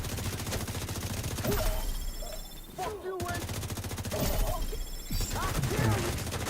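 Rapid gunfire from a shooter video game, with sustained bursts of automatic weapon fire as enemies are targeted for headshots, loud and close, with only a brief pause midway.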